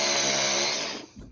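A power tool whines steadily while cutting, loud and continuous, then winds down abruptly near the end, followed by a faint low rumble.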